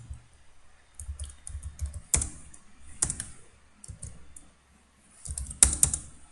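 Fingers type code on a computer keyboard in quick bursts of clacking keys, separated by short pauses and a few louder key strikes, close and clear with no talking.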